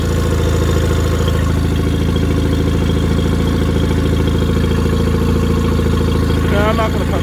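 A Mercury 20 HP outboard motor runs steadily at idle with a constant low drone and mechanical clatter throughout, loud and close, with a brief rising whine near the end.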